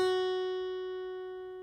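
One guitar note fretted with the second finger on the second fret, a clean pluck that rings out steadily and decays gently, with nothing else sounding.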